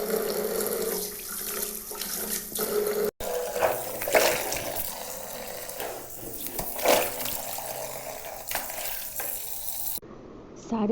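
Running water while clothes are hand-washed at home, a steady splashing wash with sloshing and scrubbing surges throughout, a brief break near the start and a quieter stretch at the very end; no talking.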